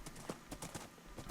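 Horse hooves clip-clop in a steady, close rhythm as a rider travels on horseback in the Minecraft video game, with brief, distinct clip-clop strikes and no talking.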